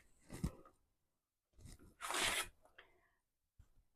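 Scissors snip through fabric scraps for a zipper wristlet in a few quiet, separate cuts, with crisp slicing and rustling bursts broken by pauses of silence.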